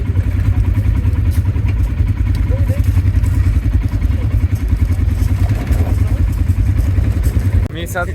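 Quad bikes idling while riders wait for a desert ride, a steady close engine drone with rhythmic low pulsing and light clatter throughout, with voices talking over it.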